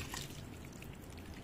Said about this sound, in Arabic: هسه نسقيها هنا سقية غزيرة قدر المستطاع حتى يتجانس السماد ويا المي ويا التربة